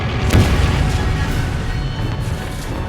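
A kamikaze fighter plane crashes into a warship in 1945: a heavy boom hits early, then a dense rumbling roar of explosion and debris sustains loudly for a few seconds without voices.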